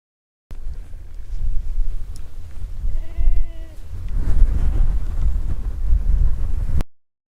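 One clear bleat rises from a herd of goats and sheep, heard against strong wind rumble buffeting the microphone for the rest of the stretch.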